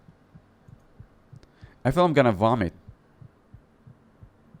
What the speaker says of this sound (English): Oh, you can hear heartbeats in the background.